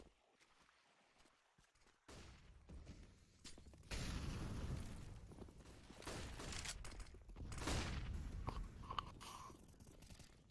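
Rapid exchanges of gunfire in a competitive team shooter match, bursts of shots crackling back and forth at moderate distance with several sharp louder cracks and no talk over them.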